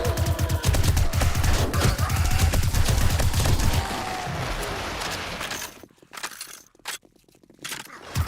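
Rapid gunfire mows down zombies in the survival game 7 Days to Die, a dense burst of shots for about four seconds, then sparser single cracks with gaps of near silence, loud and close.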